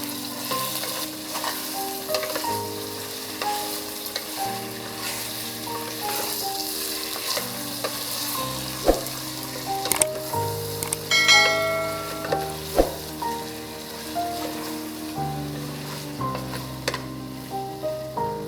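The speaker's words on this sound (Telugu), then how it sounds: "ఆ మ్యారినేట్ చేసిన చికెన్ ఇందులో వేసి ఆయిల్ అంతా అప్లై అయ్యేలాగా కొద్దిగా ఇలాగా లైట్గా కలిపేసి" Marinated chicken sizzles in hot oil in a pressure cooker while being lightly stirred, a steady close frying hiss with scattered clinks and scrapes of the spoon against the pot.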